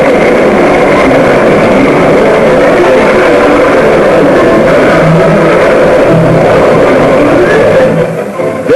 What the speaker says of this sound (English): 22 tons a time goes down the chute in 50 seconds as the 55 tubs rattle past